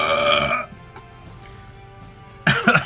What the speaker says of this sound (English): Let's see how the pumpkin burps taste.